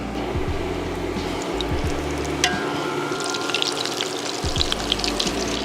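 Chicken drumsticks fry in hot oil for Southern fried chicken, a steady crackling sizzle with scattered pops and a few low thumps of handling, close and continuous with no talking.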